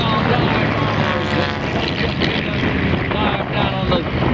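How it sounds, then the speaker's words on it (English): Aircraft engines of torpedo bombers flying in during a Tora Tora Tora airshow in Midland, Texas, a steady loud broadband roar under continuous wind noise, with a commentator's voice over the top. "You see the Cape torpedo bombers coming in from the right."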